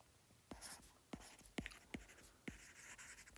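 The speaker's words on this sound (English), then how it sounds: "So let me write it here" Pen or marker strokes while working through a physics problem on alternating current, a series of short, sharp taps and scratches in an uneven rhythm, close and faint, with no speech.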